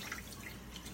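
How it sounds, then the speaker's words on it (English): Steady, close running tap water pouring into a kitchen sink as hands are washed, a continuous broadband splash with no talk over it. "I'm going to wash my hands really fast"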